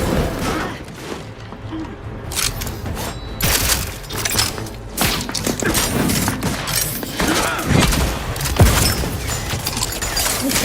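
Rapid gunfire from a weapon in the video game Outer Worlds 2, loud bursts of shots with thuds and mechanical clatter running throughout, mixed with game sound effects and some talk.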